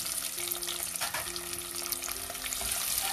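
Green chilies, curry leaves and shallots fry in a pan with a steady, close sizzle and crackle, broken by a few faint clinks and stirring noises.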